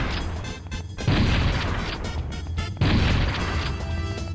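Two heavy shotgun blasts ring out in a modded Super Mario 64, each a loud booming burst about two seconds apart, layered over busy game sounds and background clatter.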